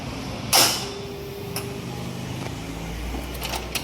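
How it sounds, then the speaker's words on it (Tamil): A Hikvision video door phone's electric door lock unlocks with a sharp mechanical clack, followed by a couple of fainter clicks and a low hum, close by and alone. "அன்லாக் ஆகுது."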